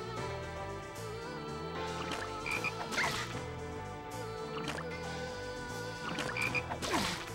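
Frogs in the video game Shadow Hearts croak in repeated throaty calls, mid distance and fairly steady, layered over a looping game music bed with no voices present.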